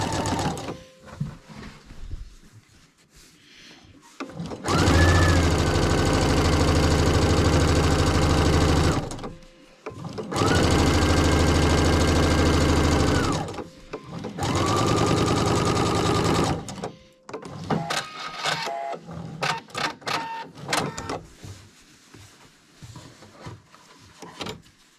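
A sewing machine stitches a double closing edge on a fabric piece in three long, steady motor runs separated by short pauses filled with clicks and fabric handling; no one speaks.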